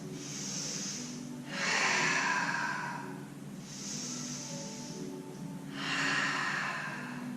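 Deep, slow breaths drawn during a yoga stretch: two long inhales and exhales, close and clear, with a soft airy rush on each breath.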